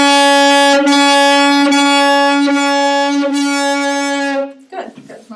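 Saxophone sustaining a B note with tongued articulation, a bright, loud tone restarted in several short phrases, then stopping near the end with faint room noise after.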